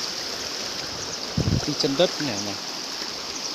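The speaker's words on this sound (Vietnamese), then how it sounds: "Đây tôi phải vượt suối này các bác." Rushing mountain stream in flood season flowing steadily as someone wades across it on foot, with someone talking briefly over the water noise.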